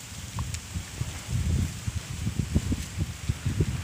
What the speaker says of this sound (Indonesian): bising karena di sini ada angin yang kencang kalau sore